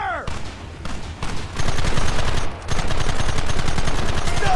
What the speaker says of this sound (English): There they are! Open fire!